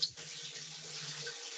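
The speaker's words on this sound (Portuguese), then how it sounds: "A gente fica escutando a torneira" Water runs from a tap in a steady, faint hiss, heard briefly and alone.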